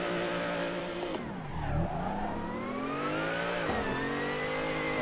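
Simulated car engine in a driving game held at full throttle, a steady loud drone climbing in pitch through the gears, with one clear drop and re-climb partway through and no talking over it.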